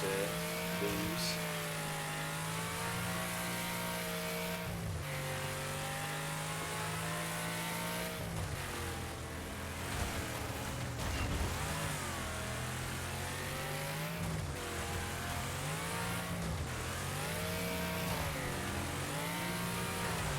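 Race car engines in a racing video game rev continuously at close range, the pitch climbing and falling through gear changes and holding a steady loud drone across the whole stretch with no voices heard.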